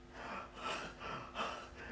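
A voice imitating a small boy panting, with several quick, breathy gasping bursts in an uneven rhythm, close and fairly soft.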